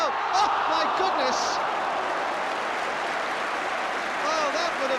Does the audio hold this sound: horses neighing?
no